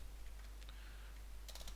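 A few soft, quick keystrokes on a computer keyboard, faint and close over a steady low hum, with a short burst of clicks near the end and no talk.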